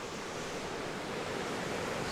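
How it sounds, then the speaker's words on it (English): Ocean waves crash on a reef shore in Madeira, making a continuous broadband roar of surf that stays steady and fairly even, with light wind noise and no voices. "Damn, this place is really nice, with the waves crashing down here."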